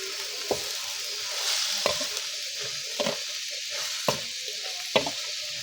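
Bird meat and holy basil stir-fried in a pan, each stroke of the spatula giving a sharp scrape about once a second over a steady sizzle. No one speaks.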